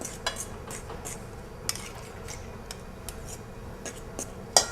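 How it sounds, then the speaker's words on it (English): Pie crust ingredients are stirred in a bowl with a utensil, producing light scattered clinks and scrapes at an irregular rhythm, close and fairly quiet, with no talking. "now she'll adjust it as she's stirring"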